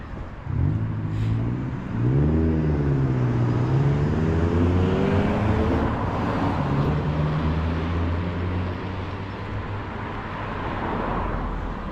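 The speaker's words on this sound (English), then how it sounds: "Seems like we got a lot of traffic tonight." Night road traffic heard from a street walk, a car engine swelling and sweeping past with a shifting pitch, then a steady wash of more distant vehicles and roadway hum, moderately loud with no talking.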